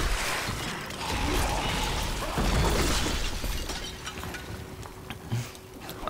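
Big Bad Voodoo cast by a Witch Doctor in Diablo 3, a dense burst of game effects with shattering, booming crashes and mechanical rattles swelling loud in the middle and then thinning out, with no talk.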